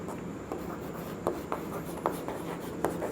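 Chalk or marker writing on a classroom board during a physics lesson, with short scratchy strokes and taps arriving in an uneven rhythm, close and clear with no speech.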